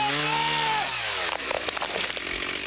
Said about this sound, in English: They had a lot of chainsaws going out here today